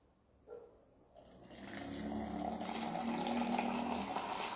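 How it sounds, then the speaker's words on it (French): Lukewarm water being poured into a container holding two pods, a steady rushing stream that swells after a brief start and keeps running close and moderately loud. "Je vais venir rajouter à ça de l'eau tiède."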